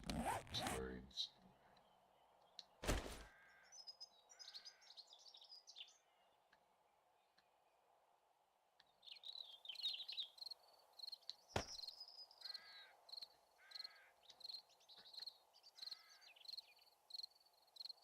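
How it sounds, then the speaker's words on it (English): Bird calls in a Halloween video game, repeated chirping and squawking notes in a quick rhythm against a steady insect-like drone, with a couple of sharp bursts and some speech mixed in. "Birds."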